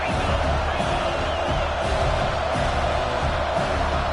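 A packed football stadium crowd roars continuously and loudly, a dense, sustained wall of noise from the stands during play in a Gators game.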